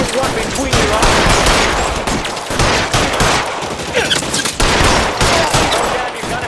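Rapid gunfire rattles in the video game L.A. Noire, dense overlapping shots and bursts in a loud, continuous firefight with brief dips, along with faint voices.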